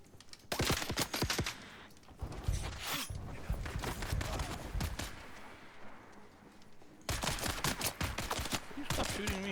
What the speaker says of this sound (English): You stop shooting me.